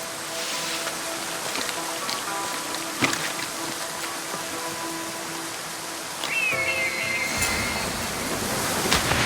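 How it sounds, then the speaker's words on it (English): A steady, dense roar of a waterfall in the video game Assassin's Creed Odyssey fills the scene continuously, with a brief whistling tone and a few soft knocks riding on top. "This is the waterfall."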